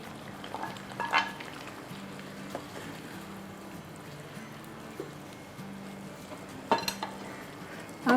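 Fried brinjal is dropped into a simmering vindaloo gravy, giving a soft bubbling sizzle with a low hum underneath and a few sharp utensil clinks and scrapes against the pot.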